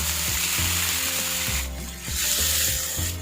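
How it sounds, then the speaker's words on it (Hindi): Chicken pieces sizzle in two tablespoons of moderately heated oil in a pan, a close, steady crackle with scraping and stirring strokes recurring about every half second. "ऑयल को नॉर्मल सा गर्म करने के बाद इसमें हम चिकन डाल देंगे।"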